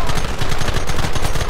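Continuous loud automatic gunfire from a video game hammers away in a dense, rapid rhythm, close and unbroken throughout.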